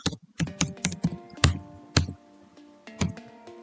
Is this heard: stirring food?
no